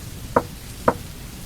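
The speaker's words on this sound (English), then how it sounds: "3 knocks, continuously, coming from the kitchen window. Someone was knocking outside." Two sharp knocks on a kitchen window, evenly spaced and fairly close, standing alone against a low background hum.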